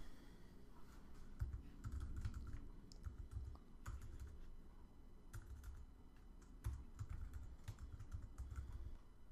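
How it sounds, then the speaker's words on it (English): Code is typed on a computer keyboard in quick, irregular bursts of soft clicking keystrokes that run continuously, close and fairly quiet, with no talking. "So let's type in user input length"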